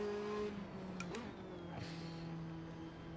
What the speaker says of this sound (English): This is the Ferrari 458 GT2.